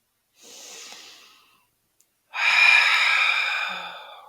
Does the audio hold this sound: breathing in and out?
yes